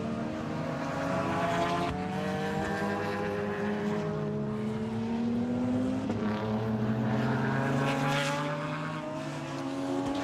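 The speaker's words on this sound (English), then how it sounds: "our beautiful Ferrari F430 comes by and it sounds like it's off song, something not right with that absolutely gorgeous car" Ferrari F430 race car at a racetrack, engine running off song, with an engine tone that shifts and rises and falls as the car passes at some distance, mixed with other track noise.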